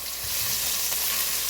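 Red pepper flakes sizzle in hot oil in a pan, a steady close crackling hiss with faint stirring scrapes underneath, and no voices.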